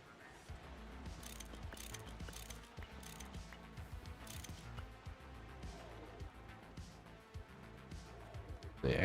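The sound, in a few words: wrench ratcheting in a factory-building video game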